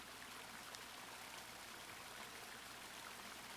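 Water splashing and trickling in a wash basin in the video game The Longing, a faint, steady running wash with no voices.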